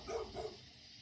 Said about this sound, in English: Them dogs don't shut up, man.